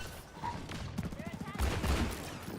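Gunfire in a shooter video game, with bursts of rapid shots over busy in-game action and voices talking throughout.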